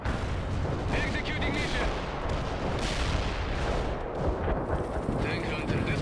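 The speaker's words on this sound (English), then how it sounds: "There is some like artillery as well" Heavy artillery barrages rumble and crack without pause in the real-time strategy game World in Conflict. A short in-game radio voice speaks over the dense, loud battle noise.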